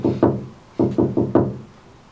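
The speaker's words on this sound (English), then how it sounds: "Wake Duncan with thy knocking." Knocking at a door in a stage performance of Macbeth: two groups of heavy wooden knocks, a pair and then four in a steady rhythm, loud and close with a short resonant decay.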